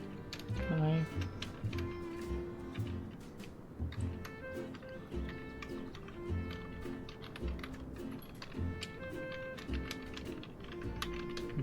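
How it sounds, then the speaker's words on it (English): Keys on a computer keyboard are pressed rapidly in steady, dense clattering taps running the whole time under a continuous bed of game music and a voice talking. "do the very fast pressing every button on my keyboard really quickly"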